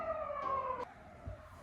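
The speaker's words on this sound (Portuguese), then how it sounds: "Nossa, tá passando muita ambulância." Emergency sirens wail outside as ambulances pass, a steady two-tone sweeping pattern that cuts off partway through, leaving a low rumble of traffic.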